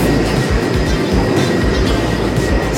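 A Stockholm metro train rolls along with a steady low rumble and faint rhythmic wheel clatter, loud and continuous throughout with no talk.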